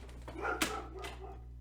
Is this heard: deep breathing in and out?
no